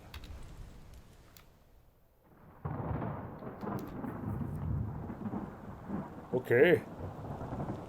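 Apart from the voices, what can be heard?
storm thunder from a video game (Return of the Obra Dinn)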